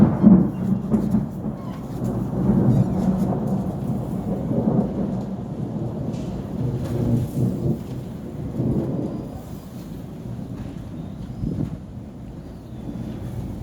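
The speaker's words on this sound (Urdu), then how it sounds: "یہ بجلی چمکنے شروع ہو چکی ہے۔" Thunder rolls in deep, drawn-out rumbles during a strong windstorm with the first November rain in Punjab, under gusty wind buffeting the microphone and no talking.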